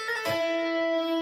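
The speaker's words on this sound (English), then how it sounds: "why don't we just hammer on the 6th fret?" An electric guitar plays a hammer-on at the 6th fret: a soft picked attack, then a sustained note that rings on clearly and alone, with no talking.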